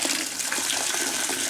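Water poured steadily into a container of coco coir growing medium for wicking cups, making a continuous, fairly loud splashing and trickling flow close up, without any talk.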